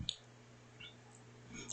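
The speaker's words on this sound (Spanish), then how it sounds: "Le doy clic" A single mouse click in Minitab statistical software, a short sharp tick near the start over a low steady hum, with faint further clicks after it.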